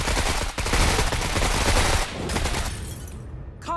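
Sustained automatic gunfire cuts down enemy soldiers in a strategy video game, a loud, continuous rattling burst that eases off after about two seconds and then fades toward quiet.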